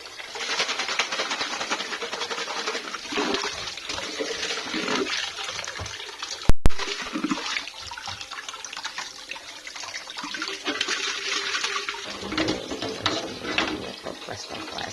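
Tap water runs and splashes at close range while glass jars are washed in a home kitchen. The flow is continuous with a brief sharp clatter midway.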